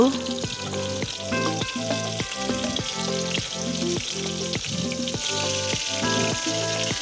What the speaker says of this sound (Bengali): ভালো করে মাখা হয়ে গেলে তেল গরম তেলে সবগুলো ভেজে নেব